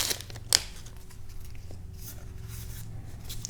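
A foil Argent Saga trading card booster pack is ripped open, a sharp tearing snap followed by soft crinkling of the wrapper, close and fairly quiet against a low background hum.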